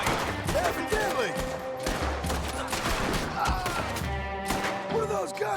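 Repeated volleys of gunfire in the video game Red Dead Redemption 2, dense overlapping shots and thuds over a steady loud backdrop of game sound.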